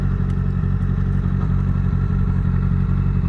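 A motorcycle engine in a video game, riding near Mt. Fuji on a hillclimb, drones loud and steady with a low rumbling throb and slight clatter, close and continuous.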